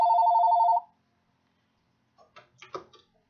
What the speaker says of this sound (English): oh, that's one of those robocalls